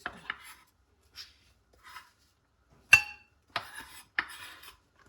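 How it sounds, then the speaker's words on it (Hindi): A knife chops green chillies finely on a board, a series of sharp, separate taps and scrapes spaced irregularly, close and clear against near silence. "और 2 मैंने ग्रीन चिली ले लिया। अभी इनको भी हम ऐसे ही बारीक काट लेंगे।"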